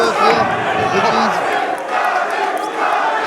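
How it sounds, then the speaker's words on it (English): A boxing arena crowd at a Wasserman Boxing fight roars and swells in a dense, loud wash of cheering, with a commentator talking over it. "the crowd dialing up the decibel level"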